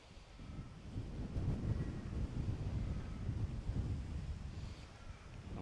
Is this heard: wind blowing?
yes